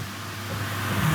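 A 1980 Mercedes G-Wagon 280 GE, long left sitting, runs at a steady idle with a low, constant engine rumble close by that builds slightly toward the end.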